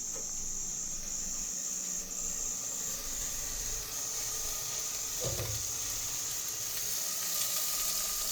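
Food frying in oil in a pan over a gas cylinder stove, a faint steady sizzle and hiss with a high whine running throughout and one brief louder pop or clatter midway.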